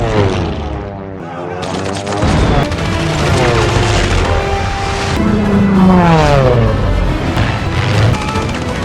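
Japanese air raid bombing in a war film set during the Sino-Japanese War: roaring aircraft engines sweep overhead with loud blasts and crashing impacts, dense and close, the din rising and falling throughout with pitch swoops as planes pass.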